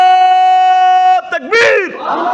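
A crowd at a Bangla religious sermon roars a takbir response in unison, a loud sustained chant that swells, breaks off and surges again, close and filling the space.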